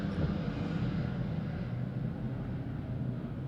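A continuous low droning roar of airplanes flying overhead, steady and fairly distant, filling the whole stretch without speech.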